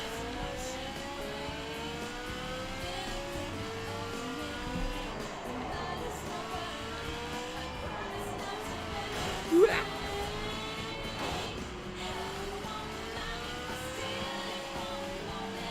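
A car engine in the racing game Gear.Club Stradale, revving up through repeated gear shifts with rising whines that climb, drop and climb again, steady and moderately loud with a brief sharp blip midway.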